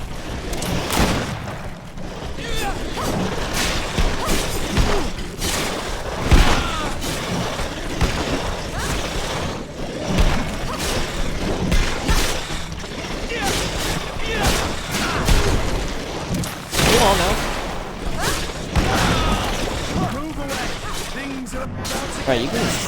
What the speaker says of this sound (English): you can shoot the traps, or just shoot anywhere near the traps and they explode